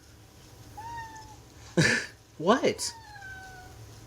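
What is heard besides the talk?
pet cat meowing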